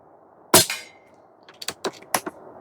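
An Umarex Gauntlet 2 SL22 PCP airgun fires a single sharp, close shot. A cluster of lighter clicks and knocks follows shortly after.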